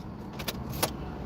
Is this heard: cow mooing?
no